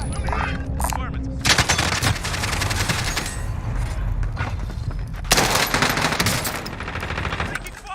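Gunfire in Call of Duty Warzone: rapid, loud machine-gun bursts and fusillades rattling almost continuously, with a brief lull before a second intense volley near the end.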